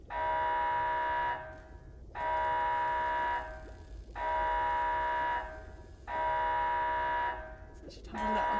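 An electronic alarm sound effect repeats as a steady harmonic tone in evenly spaced two-second pulses separated by short gaps, loud and unaccompanied.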